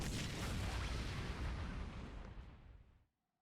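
A bomb blasts in Super Bomberman R Online, a loud, sustained broadband roar that rumbles for about three seconds and then cuts off abruptly into silence.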